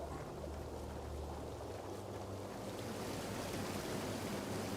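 Waterfall in the fantasy video game Tainted Grail, a steady, rushing wash of falling water that continues unbroken at moderate distance, with no speech.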